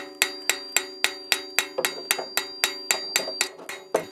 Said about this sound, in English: I'm hammering in the bevel of the edge of the sickle.